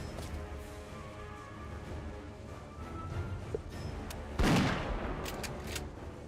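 Gunfire at a barricade in the Warmachine Tactics video game: a steady backdrop of battle ambience, then one sharp, loud burst of shots with a crashing impact about two-thirds of the way through.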